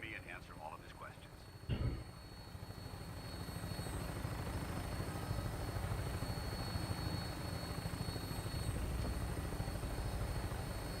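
A Vertibird aircraft in Fallout 4 drones steadily on final approach, a constant low rotor and engine rumble that stays close and even throughout, with a brief clunk near the start.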